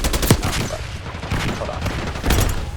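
Rapid, loud gunfire from a long gun in a video game, a dense string of shots and bursts that runs throughout with only brief dips.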